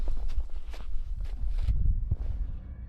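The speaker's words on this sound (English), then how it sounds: "Faint footsteps begin to echo around Chris, seemingly out of nowhere" Footsteps crunch on the ground in a forest, a run of uneven steps over low rumbling background noise, fairly close and muffled, with no one talking.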